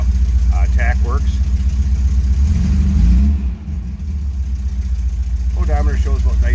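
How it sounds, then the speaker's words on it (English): A 1973 Porsche 914 engine runs at a steady, close idle, a low rumble that holds throughout while someone talks over it near the start and again at the end. "you can see how easily it starts. I mean, it's just boom, this thing fires up"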